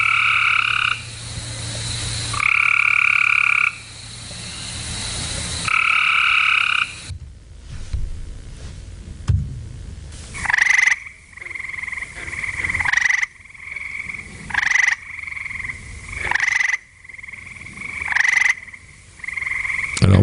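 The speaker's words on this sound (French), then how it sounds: "voilà ce que nous autres nous appelons des chants différents chez les grenouilles" Two kinds of small frogs call in turn: first long, buzzy, drawn-out trills, then a run of short, sharp chirping pulses repeated at a quick, even pace, loud and close.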